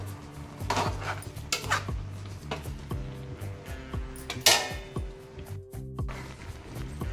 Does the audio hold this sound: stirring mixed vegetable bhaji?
yes